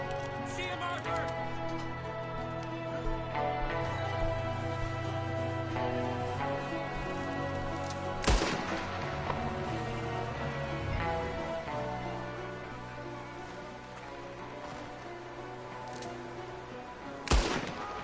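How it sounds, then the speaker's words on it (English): Gunfire in the western game Red Dead Redemption 2, with scattered loud shots over music, including a sharp close blast midway and another near the end. "Good shooting."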